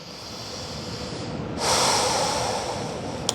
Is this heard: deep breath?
yes